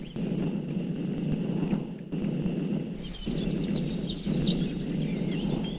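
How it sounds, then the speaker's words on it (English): A songbird creature from the Minecraft Twilight Forest mod chirps in short high tweets and trills over a looping low game ambience, the calls growing busier toward the end. "Come back here, strange songbird."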